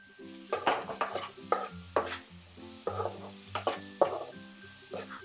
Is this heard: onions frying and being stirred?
yes